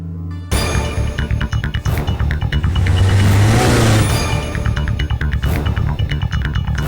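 A car engine runs and revs loudly up close in a Hindi action film scene, steady and continuous before easing off, with no voices over it.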